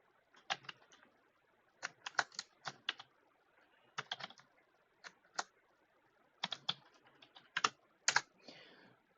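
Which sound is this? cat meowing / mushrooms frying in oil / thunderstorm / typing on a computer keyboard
typing on a computer keyboard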